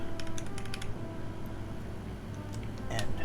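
Several crisp key clicks from a custom Kyuu mechanical keyboard, a quick cluster of taps near the start and a couple more later, close and fairly quiet over a low background hum.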